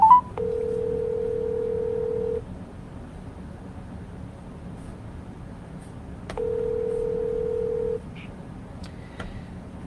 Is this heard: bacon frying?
no